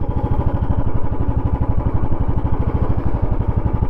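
A Royal Enfield Classic 350 motorcycle runs close by with a loud, rhythmic single-cylinder thump that holds steady throughout.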